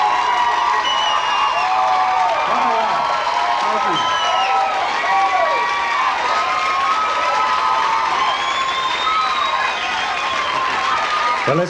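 A large crowd at a country concert applauds and cheers continuously, with whoops and shouts rising over the steady clapping, and a voice speaks amid the noise.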